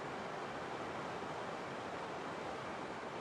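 Steady running water flows near a stone bridge in the game Heaven's Vault, a soft, continuous broadband rush with no breaks, fairly faint and even throughout.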